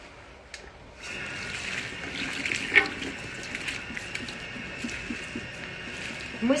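Water runs steadily from a tap at a salon wash basin while shampoo is rinsed from hair and neck, a soft continuous splashing hiss with a few small knocks.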